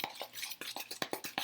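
A clay mask mixture with a few drops of clove bud oil being stirred in a small bowl, a quick series of soft scraping and tapping strokes about five times a second, close and quiet, with no talking.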